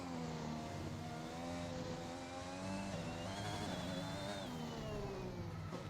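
An F1 car from F1 2021 running on track at the Hungarian Grand Prix, its high-pitched engine screaming steadily and rising and falling through gear changes, loud and continuous with no talk.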